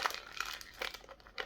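Festive gift wrapping paper crinkles and tears in short, close rustling bursts as a Christmas beer from Brass Castle Brewery is unwrapped; quiet and alone.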